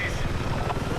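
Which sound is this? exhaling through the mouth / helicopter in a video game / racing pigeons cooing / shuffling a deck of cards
helicopter in a video game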